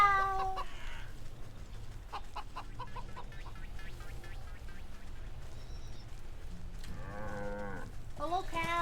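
Game cow lowing in Wytchwood, a few moos surfacing at the start and again near the end over a steady low ambient bed, with soft chicken clucks and small farmyard sounds in between.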